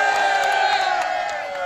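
A rally crowd cheers and whoops in a dense, steady roar of many voices, loud and continuous throughout with scattered higher shouts on top.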